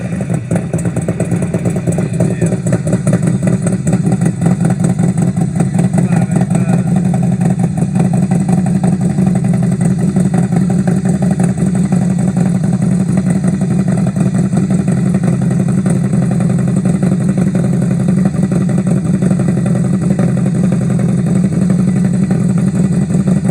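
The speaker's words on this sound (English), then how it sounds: "I loved everything about that particular exhaust." A motorcycle fitted with a Vance and Hines exhaust revs hard and loud at close range, its deep throaty roar pulsing and rising continuously with no voices over it.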